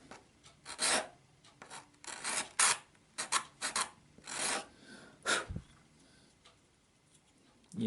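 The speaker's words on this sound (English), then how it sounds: "pastel is like a dust when you scrape it off" Pastel is scraped off a drawing in a series of short, dry raspy strokes, irregularly spaced and close, with quiet gaps between bursts.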